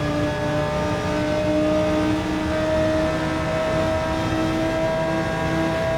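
Audi R8 GT3 race car engine in Gran Turismo 7 at high speed, a loud sustained whining drone with steady pitch lines and slight shifts, continuous throughout with no voices.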